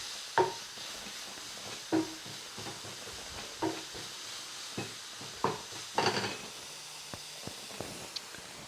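Leek and seaweed sizzle in a frying pan in a home vegan kitchen, a continuous soft hiss and crackle broken by occasional louder stirring scrapes and taps.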